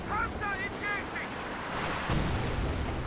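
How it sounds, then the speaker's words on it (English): A Priest self-propelled artillery gun in a WWII strategy video game fires one heavy boom near the end, following brief speech over a constant din of battle. "Priest is firing."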